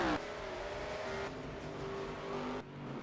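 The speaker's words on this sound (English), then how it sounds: "The pace car is still on track and it's finally pulling off." Pace car engine pulling off the track at Brands Hatch in a racing video game, a steady loud engine drone with shifting tone as it accelerates away, no talk.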